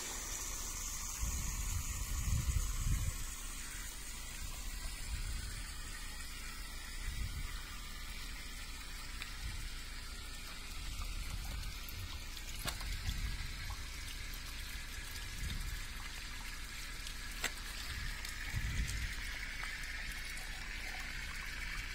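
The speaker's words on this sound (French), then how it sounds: "Maintenant, je teste avec mon tuyau d'eau. C'est de l'eau de mon puits." Well water running from a garden hose into a polymer concrete drain channel, a steady trickling and gushing flow that sustains throughout, fairly quiet with faint pulsing splashes.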